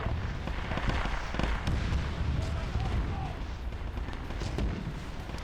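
Heavy artillery bombardment in a Warhammer 40K-style war video game, a dense continuous barrage of booming shell impacts and blasts, loud and close, with voices talking underneath.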